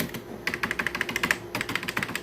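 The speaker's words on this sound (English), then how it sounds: "it's just a normal membrane keyboard. It does sound very nice." Rapid typing on a dusty, yellowed vintage membrane computer keyboard, close and clear, a quick run of soft clicky keystrokes with a brief pause midway before the rhythm resumes.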